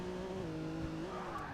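Rolls Royce car skidding in the video game Forza 6, a steady tire squeal over a humming engine drone, held at moderate level and fairly faint throughout.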